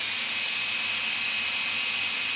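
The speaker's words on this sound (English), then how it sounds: "Take your drill, put it into the chuck, get it so it's nice and tight" A power drill spins steadily to wind MIG welding wire, a continuous, high-pitched whine heard alone and close.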